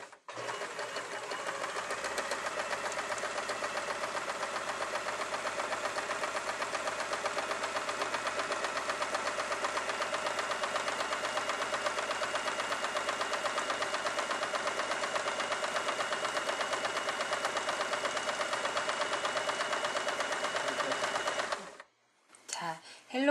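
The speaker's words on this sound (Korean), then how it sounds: "헬로키티 천과 천 디럭스 모델은 소음도 없고 스위스 정품 미싱으로 소음도 적으며 봉제가 이렇게 완벽히 되었습니다." A Swiss-made Elna Hello Kitty New 1000 Deluxe sewing machine stitches fabric in a steady, continuous whir for about twenty seconds, then stops abruptly and falls quiet.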